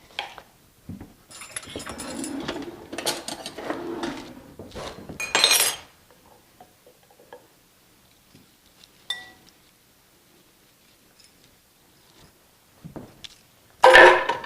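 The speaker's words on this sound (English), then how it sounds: "then I mix it all together" Almond cracker ingredients, including salt, olive oil and honey, being stirred together in a bowl, with clinking and scraping of a utensil against dishware for several seconds, then quieter sparse taps and a final louder clatter.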